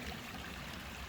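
Rainwater runs steadily across ground at a ranch, cutting a trench as it flows; a continuous, moderately quiet trickling wash with no pauses.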